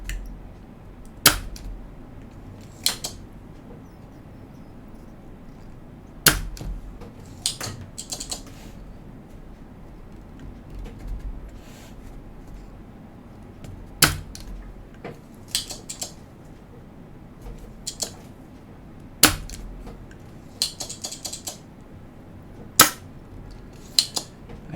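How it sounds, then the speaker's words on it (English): Desoldering gun pulling solder from mechanical keyboard switches, sharp sporadic clicks and snaps from the pump plunger with faint metallic clatter between, close and irregular over a low room hum, no talking. "I hate this desoldering gun."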